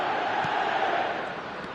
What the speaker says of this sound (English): Now the crowd are demanding that they just finish this off.